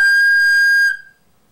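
Recorder blown too hard on a G note, a shrill, overblown whistling tone held steadily for under a second before cutting off into silence.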